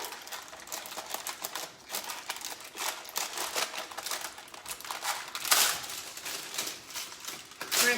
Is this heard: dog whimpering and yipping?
no